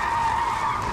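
A car driven wildly across an apartment complex lawn, its tires skidding in one loud, sustained squeal.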